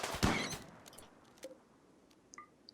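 A shotgun blast rings out once in Rimworld as a colonist fires at a rabbit, a sharp loud crack at the start that fades into a short tail, followed by small faint game interface blips.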